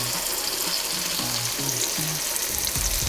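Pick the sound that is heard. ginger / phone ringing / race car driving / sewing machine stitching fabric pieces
ginger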